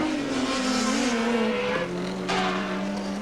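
Touring car engines at a 1989 Mallala round of the Australian Touring Car Championship, a Toyota Corolla among the field, rev loudly with pitch shifts through gear changes, a tire squeal cutting in near the track.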